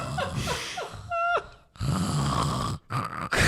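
A person imitates loud snoring with rough, rattling inhales, snorts and breathy gasps in uneven bursts, close to the microphone and alone, with brief pauses between the snores.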